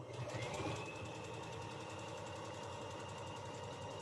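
A sewing machine hums and rattles steadily while stitching along the bottom edge of a fabric mask, its motor running continuously at an even pace, quiet and close with no talk.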